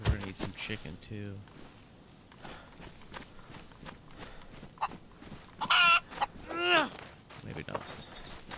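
Chickens in the survival video game DayZ cluck in a few short bursts near the end, mixed with footsteps and someone talking over them.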